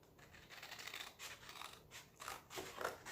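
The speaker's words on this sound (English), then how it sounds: "you're gonna cut out a little Christmas tree right here" Scissors snip through a small pad of paper while a little Christmas tree shape is cut for a junk journal, a run of soft crisp cuts in several close bursts with short pauses between.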